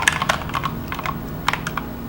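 Keys clatter on an Ergodox keyboard in an irregular run of crisp, close taps and clicks over a low steady hum, with no voices.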